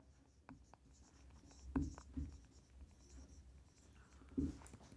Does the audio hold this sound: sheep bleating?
no